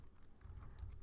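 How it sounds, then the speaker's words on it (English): Fingers type steadily on a computer keyboard, a run of soft, quick clicks and taps at close range, with no one talking. "I personally don't mind typing the full name."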